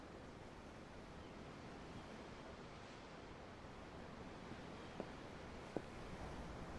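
Ocean waves in the video game Tales of Arise: a soft, continuous wash of surf, faint and even throughout, with two tiny clicks near the end and no voices.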